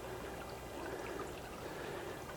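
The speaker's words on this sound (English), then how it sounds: "You come down here and you can get water out of here." Spring water pours steadily out for drinking, a continuous close splashing rush with a bright trickling texture and no pauses.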